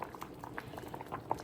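Black beans boiling in a pot of water on the stove, a steady close bubbling and popping with small irregular bursts throughout.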